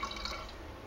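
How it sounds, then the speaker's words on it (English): A brief, steady trickle of wine runs gently down the inside of a carboy of sour beer, a soft, close liquid sound with light drips. "I went to add the wine"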